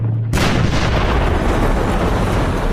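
A WWII artillery gun fires a shell in the North African desert, one sudden massive blast that bursts from quiet into a long, loud rumbling roar.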